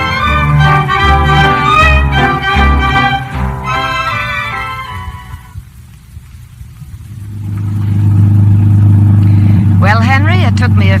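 A car engine sound effect in a radio drama drones low and steady under music and dialogue, then swells louder and rumbles on alone near the end.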